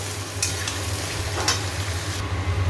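Food frying in a pan while being stirred for bitter dal and potato with poppy seed, with a continuous sizzle and occasional scraping strokes, close and steady, with no talking.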